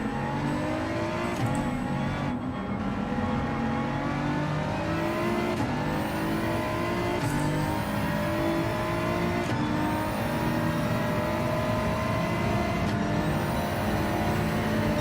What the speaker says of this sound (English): So we're in the BMW M3.